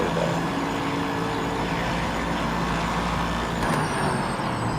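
Race car in the Project Motor Racing video game braking hard, a steady dense roar of engine and tyre noise with a brief sharp burst near the end, loud and continuous with no talk.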